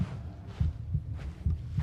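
Heartbeat in the game Varka's Home, low thumping double beats repeating at a steady, slightly quickening pace, close and prominent with no voices.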